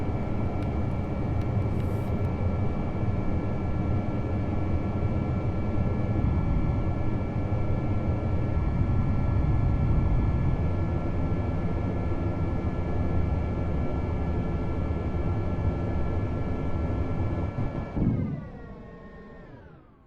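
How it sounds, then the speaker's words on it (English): Jet engines powering a craft in Kerbal Space Program, a steady, roaring drone with a constant high whine that holds for about eighteen seconds, then spools down and fades out. "See if we can get off under jet power."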